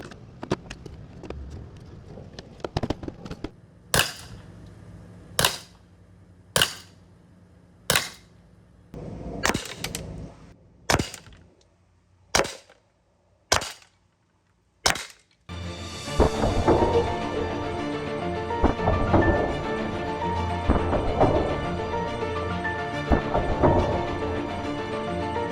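Ten sharp, loud cracks from an Alfa 1.50 orange .50 caliber less-than-lethal launcher fired into a row of three quarter-inch Baltic birch plywood boards, spaced irregularly a second or two apart, then followed by a steady, busy clattering rumble.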